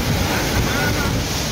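Rushing floodwater during heavy rain in Rajkot, a loud, steady roar of churning water with wind buffeting the microphone, continuous and close throughout.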